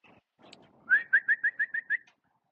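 A bird, likely a pigeon or dove, gives a run of seven evenly spaced whistled coos, clear and fairly close, after some faint rustling and with no talk.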